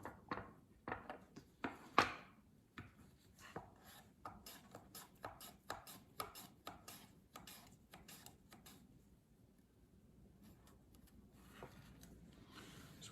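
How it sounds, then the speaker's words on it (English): Raw home-grown turnips being sliced with a knife, a quick run of crisp, close cuts in steady rhythm that slows and thins out toward the end, with no talking. "I'm just going to slice those on raw"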